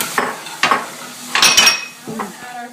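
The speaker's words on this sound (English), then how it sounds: "we're just going to whisk it until it gets thick for about 5 to 7 minutes" Metal whisk clattering and scraping against a pot as milk is stirred into boiling noodles for a stovetop cheese sauce, in several quick separate bursts with a faint sizzle between them.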